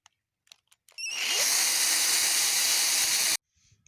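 A power drill bores a hole in a drip irrigation hose with a size 20 bit, starting after a few faint clicks and running as one steady, loud, close whine for over two seconds before stopping abruptly.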